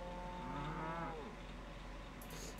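Cattle mooing in the Old Market Simulator farming game, a long drawn-out low moo rising and falling over a steady background hum, followed by a faint higher sound near the end.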